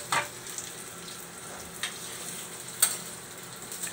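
Food sizzling and frying in a pan at home, with soft stirring scrapes and a few sharper clinks from a utensil against the pan, steady and fairly quiet.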